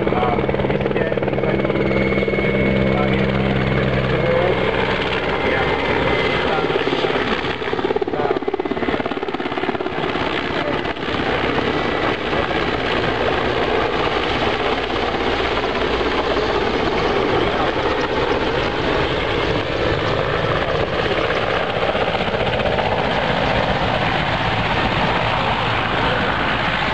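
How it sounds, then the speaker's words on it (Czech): A transport helicopter flying, its loud, steady rotor and engine roar filling the whole stretch without letup, close and constant throughout. "Za malou chvíli uvidíte, jak tento dopravní vrtulník pomalu a jistě"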